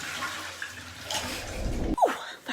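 A toilet flushes with a rushing, swirling gush of water that ends in a short gurgling drain, heard alone with no talking.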